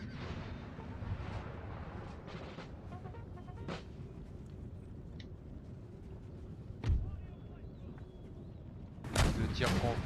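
Scattered musket volleys and booming artillery shots crack across a battlefield in Empire Total War, irregular bursts at varying distance over a low rumbling background, with speech heard intermittently.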